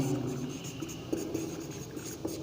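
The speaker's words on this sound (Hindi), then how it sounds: "एक परिभाषा लिख लेते हैं" A definition being written by hand during a maths lesson, with soft irregular scratching strokes close by over a steady background hiss and no talk.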